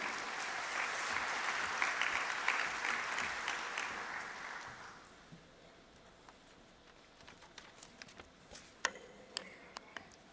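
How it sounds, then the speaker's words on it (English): A large audience at the Semicon India 2025 inauguration in New Delhi applauds to welcome a speaker. Broad, full clapping fades after about five seconds into scattered claps, clicks and faint room noise. "With a round of applause, let's welcome Mr. Kai Beckmann."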